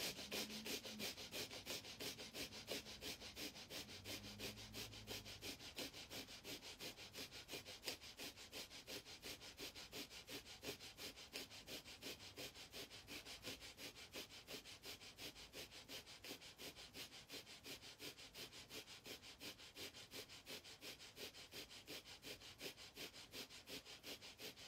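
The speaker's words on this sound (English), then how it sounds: "do the breaths of fire, which we inhale, exhale rapidly through the nose" Rapid, evenly paced breath-of-fire exhales pushed through the nose during a womb yoga session, a steady string of short sniffing bursts continuing throughout with no talk.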